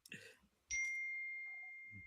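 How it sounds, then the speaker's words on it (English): A phone's electronic ding rings out once, a bright sustained tone that slowly fades over a couple of seconds, preceded by brief talk and followed by a low murmur. "whose phone's going off?"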